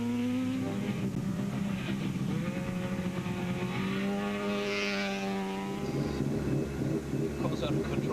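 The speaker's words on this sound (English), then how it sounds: "Car's out of control." Volkswagen rally car engine revving and wailing as it slides out of control on a slippery oval racetrack, sustained loud rising and falling engine tone, with talk over it.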